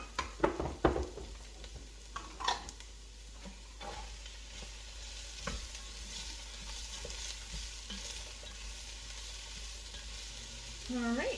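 Carrots and other vegetables for broccoli cheese soup cooking in a pot, giving a low steady sizzle with a few scraping stirs and light knocks near the start, then a quieter simmer to the end.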